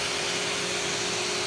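A Panasonic Jet Flo MC-6255 upright vacuum cleaner runs switched over to tools, a steady, loud motor whine and airflow rush with no break.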